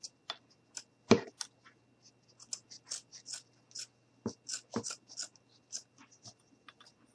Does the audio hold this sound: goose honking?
no